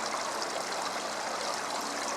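Garden water fountain trickling steadily in a backyard garden with a moss-lined bog area, a continuous close splashing wash with no pauses and no talk.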